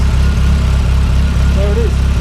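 A 4-cylinder car engine idles up close, a steady low mechanical rumble with even pulsing and a brief faint whine partway through, no voices over it.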